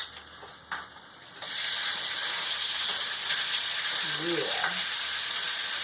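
Chicken pieces drop into a hot pan for takeout-style bourbon chicken and burst into a loud, steady sizzle that holds after a few quiet clinks, with a brief spoken word over it.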